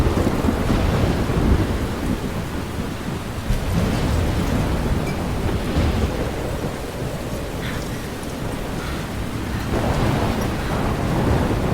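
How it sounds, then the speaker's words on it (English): Thunder rolls in a stormy opening scene of the video game Life is Strange, deep sustained rumbling layered with steady heavy rain. "Já começa com trovão já."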